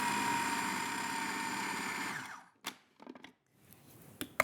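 A food processor whirs steadily as it blends a feta and pepper filling with olive oil, then winds down and stops, leaving a few clunks and scrapes.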